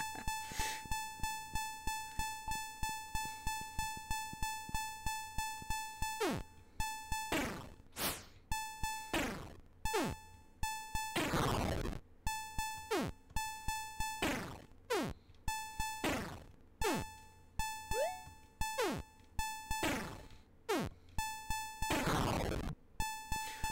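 A repeating electronic alarm in the video game Legacy of the Ancients, buzzy and harmonic with fast regular pulses, broken up by sweeping whooshes and sharp hits, running alone throughout.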